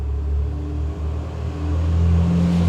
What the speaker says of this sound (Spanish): Ay, hay mucho ruido de coches